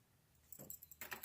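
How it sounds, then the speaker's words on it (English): Small keys jangle inside an opened package, heard as two quiet bursts of metallic clinking, a short rattle followed by a longer one, with no talk. "Oh, we got some keys in here. Little keys"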